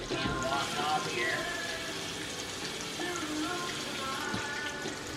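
Water from a kitchen tap runs steadily while something is rinsed off after a jambalaya pot is filled, a continuous splashing hiss with small clatters and faint background noise.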